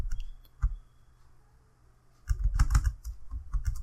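Steady typing on a computer keyboard while writing microcontroller code in Atmel Studio, scattered keystrokes early then a fast, dense run of clicks, close and clear.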